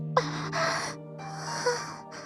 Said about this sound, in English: A gasp of breath escaping those lovely cherry lips caressed my face.